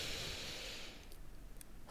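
A slow, soft inhalation through the nose, close and intimate, with a faint airy hiss that fades into near silence, then a brief sharper intake at the end, in a quiet nighttime relaxation setting.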